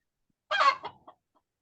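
A chicken gives a short burst of clucking, a louder opening squawk followed by two softer clucks, heard fairly close in an otherwise quiet room during a meeting.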